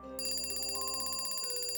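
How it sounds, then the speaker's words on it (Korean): A mobile phone alarm suddenly starts ringing in a quiet room, a loud, bright electronic tone pattern repeating rapidly and evenly with no voices. "침묵 속에서 일의 휴대폰 알람이 갑자기 울리니"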